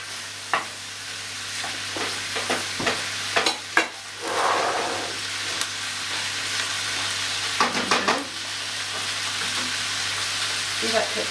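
Beef and onions sizzle steadily in a pan for lasagne, a continuous crackling hiss with occasional clatters and scraping from stirring, fairly close.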